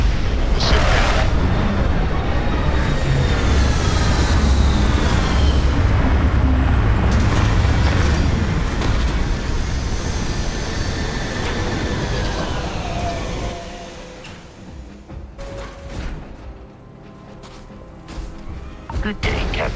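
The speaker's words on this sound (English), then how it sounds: "Landing site is sufficient. Bringing the ship down." A spaceship lands in Starfield with a long, loud rumbling roar of engines and rushing noise that gradually fades to quieter settling sounds and clanks near the end.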